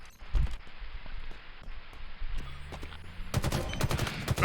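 Battle rifle fire in a Halo multiplayer match, scattered close bursts of shots ending in a dense rapid volley among other combat noises.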